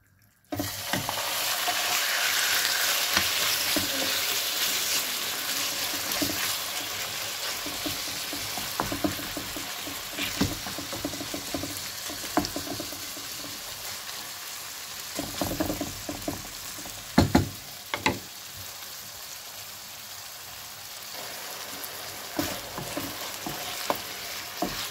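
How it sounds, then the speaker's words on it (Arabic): Chicken breast frying in hot oil in a home frying pan, a steady broadband sizzle running throughout with occasional louder crackles and stirring scrapes, close and continuous with no talking. "نحط لها الزيت هكذا ونستنى الزيت يسخن باش نطيب هذاك البولي ولا هذاك الصدر تاع الدجاج"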